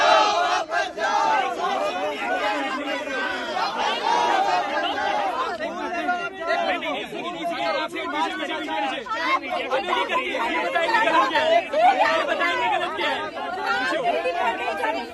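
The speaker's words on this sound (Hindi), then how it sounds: "भीड़ चिल्ला रही है जैसे कि कोई नारा मिल गया है हमको" A large protest crowd at Jantar Mantar shouts and chants together continuously, a dense roar of many raised voices that stays loud and steady from start to finish.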